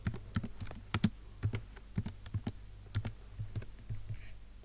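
Quick irregular bursts of keystrokes on a computer keyboard, close and crisp, with short pauses between clusters of clicks and no talking.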